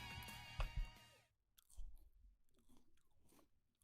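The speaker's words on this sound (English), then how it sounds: "There's a lot of munching noises" A video game character eats with wet, crunchy munching and chewing sounds in close, uneven bursts, following a short musical passage at the start.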